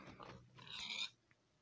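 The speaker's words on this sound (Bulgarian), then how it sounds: "Само набързо ще убия едно прасе." A video game pig squeals and grunts while it is being killed, one short oinking burst after a brief grunt, clear but fairly quiet, then a faint tail and near silence.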